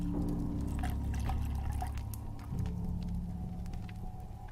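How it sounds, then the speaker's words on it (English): Sweet iced tea poured into a glass, a continuous close gurgling pour with small rising tones and clinks, steady for several seconds before it thins out. "Pouring myself a nice drink"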